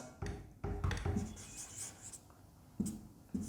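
Chalk or marker scratching on a board during a physics lesson on units and dimensions, several short written strokes in bursts separated by pauses, close and clear.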